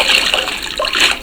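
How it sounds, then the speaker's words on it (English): Bags sloshing and being washed by hand in a hot tub filled only with plain water, a steady close splashing and trickling wash with brief surges, no voices. "They clean the bags in a hot tub filled only with water,"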